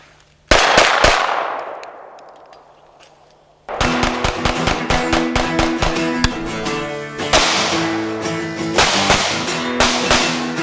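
Sig Sauer P320 subcompact 9mm pistol with rail, fired outdoors: one loud isolated shot with a long ringing decay, then rapid strings of close, sharp shots in quick bursts.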